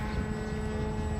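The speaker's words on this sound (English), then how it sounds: "let's continue to walk in here with Russ as he takes the plane back to the tarmac and for a shutdown" A B-17 bomber taxiing back to the tarmac on a warbird airfield, its radial engines giving a steady, loud, continuous drone with constant low rumble and no voices.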